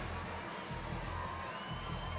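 A rugby sevens crowd at a Fiji versus Australia bronze-medal match in the HSBC World Rugby Sevens Series roars after a Fiji try, a dense, steady wash of cheering with a commentator's voice over it.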